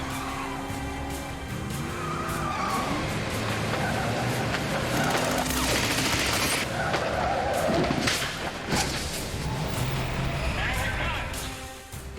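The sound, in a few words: BMW driven fast through Cape Town streets in a chase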